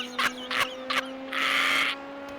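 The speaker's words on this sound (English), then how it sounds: "There's a bird on my window, what the heck?" A bird at a window gives a few short, separate bright calls, each followed by a pause, then one longer, steadier rasping burst. Quiet and fairly close, with a steady electronic hum running beneath it.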